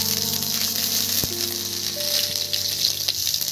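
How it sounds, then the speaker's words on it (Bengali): Ginger goes into hot frying oil with garlic, as lote fish (Bombay duck) is cooked, producing a continuous close sizzle and crackle, with faint tonal sounds in the background and no speech. "এবার এর মধ্যে আমি এই আদা দিয়ে দিচ্ছি দেখুন"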